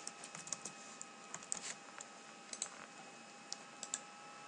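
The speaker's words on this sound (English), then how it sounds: "so if we double click that to open it" Faint computer mouse clicks during file management in SolidWorks, scattered single and double clicks over a quiet, steady background hum.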